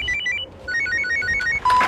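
Electronic telephone ringtone chiming in a repeating melodic pattern of bright tones, fairly loud and close, with no talking.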